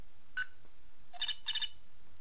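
Short electronic telephone ringing in the courtroom game Phoenix Wright: Justice For All, a brief chirp followed by two quick trilling rings, clear and close over a quiet background.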